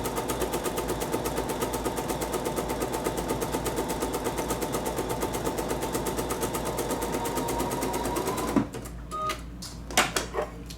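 A sewing machine French-sews an heirloom lace band, running in a steady, fast rhythmic clatter for about eight seconds, then stopping and giving a few short, separate bursts and clicks near the end.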